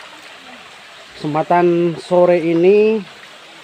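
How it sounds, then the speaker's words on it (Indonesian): Water from an underground river rushes in a steady, hissing flow that continues throughout, with someone talking over it in the foreground. "saya lagi masuk di sungai bawah tanah. Ini sungai bawah tanah"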